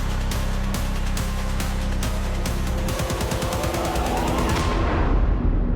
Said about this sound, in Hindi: गोलियों की आवाज आ रही है।